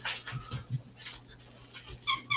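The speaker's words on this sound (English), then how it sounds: "Is that what they're barking their head off at?" A pet dog indoors barks at a neighbor walking another dog past the window, giving a few short, fairly faint barks and whiny yelps spread across the moment, with a steady low hum beneath.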